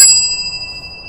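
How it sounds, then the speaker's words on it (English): A single bright bell strike in the video game Halo 3, sharp at onset with a clear ringing tone that decays slowly over about a second. "I already rang the bell."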